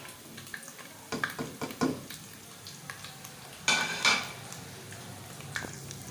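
Masala spices frying in a pan for curry, with scattered soft sizzles, scrapes and clinks of a utensil against the pan and a brighter burst of sizzling midway, fairly quiet and close with no talk.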